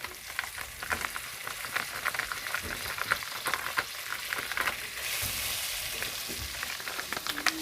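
Coconut cream melting and frying in a sauté pan as mackerel run dung is made: a close, continuous sizzle with crackles and occasional stirring scrapes, no voices.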